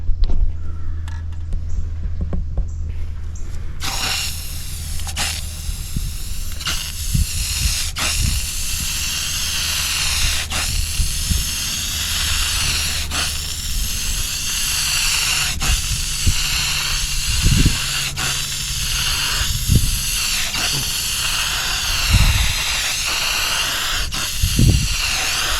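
A steady, close hiss of Rust-Oleum silver metallic paint sprayed from an aerosol can for a spray-out test, running continuously with faint clicks and taps over a low background hum.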